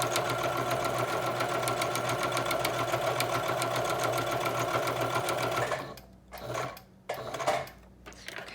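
A sewing machine stitches a reusable snack bag at a fast, even, rattling pace for several seconds. It then stops and gives a few short, uneven bursts of stitching near the end.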